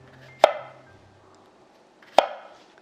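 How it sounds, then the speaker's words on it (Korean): A kitchen knife cuts a cucumber into 5 cm lengths for summer kimchi. Two sharp, isolated chops land on the board about two seconds apart, each one crisp and close against near silence. "오이를 썰어 보겠습니다"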